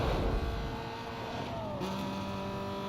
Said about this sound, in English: Dear pink Porsche, who gave you permission to overtake me?